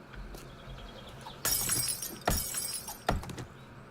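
Glass shatters after being dropped in the 7 Days to Die video game, three sharp breaking crashes in quick succession over a quiet background.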